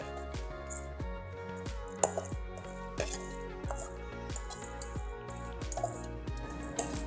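Crushed cornflakes with a wet consistency being spooned on top of a hash brown casserole, a series of soft, close taps and crunchy scrapes of a spoon with a faint background hum.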